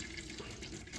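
Transmission oil draining from a car's DSG gearbox, a steady low trickle and splash into a container, continuous and faint throughout, with no talking.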